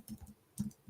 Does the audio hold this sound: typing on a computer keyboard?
yes